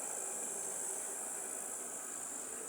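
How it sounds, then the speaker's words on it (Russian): Hot samovar with fire drawing beneath it gives a steady, even hiss with a faint rushing roar, continuous and close, no voices over it. "сейчас звук, да, какой-то в самоваре?"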